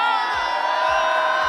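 Audience at a card magic trick at Paris Game Week shouting and cheering loudly, a dense sustained roar of voices with a few rhythmic low thumps.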